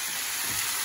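Tomatoes sizzle in a hot pan as a shakshuka sauce cooks, a steady bright hiss and crackle throughout, close and even with no voices over it.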